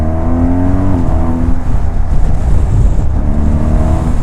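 A motorcycle ridden by an instructor on a road, a steady, loud engine drone with rising and falling pitch as the throttle shifts, continuous and close throughout with no talking.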